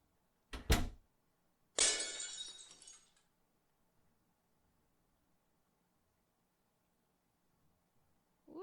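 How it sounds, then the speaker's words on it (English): Window glass smashing in a video game: a sharp thud, then a bright, noisy shatter of breaking glass that tails off over about a second, close and alone with no voices. "The window has been smashed"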